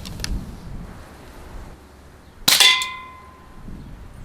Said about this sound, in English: we'll fire at that next can